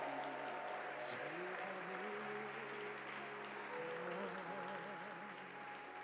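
A church congregation claps and cheers continuously, with a broad wash of applause and voices and held vocal tones rising over it, a large crowd indoors at a Sunday service.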